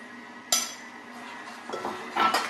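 A utensil stirs flour into salted water in an All-Clad pan for vanilla choux éclair dough, with sharp metallic clinks and scraping knocks against the pan, close and clear.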